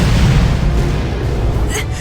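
Artillery fire aimed at an airship in the video game Tales of Vesperia, heavy rumbling booms rolling together into a loud, dense low barrage, with a brief higher crackle near the end.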